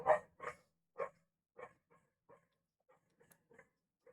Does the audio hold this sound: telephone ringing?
no